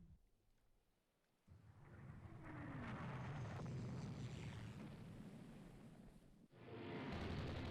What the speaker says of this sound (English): Enemy aircraft have found our battle division.